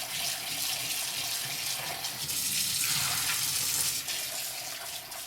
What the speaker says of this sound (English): So now that we have it in this measuring cup, we're going to rinse off the soap